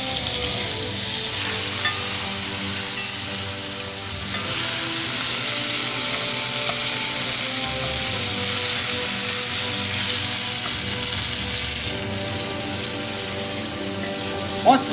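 Lightly spiced chicken fries steadily in a pan turned down from high to low, a continuous dense sizzle at close range with faint clinks, alone without talk.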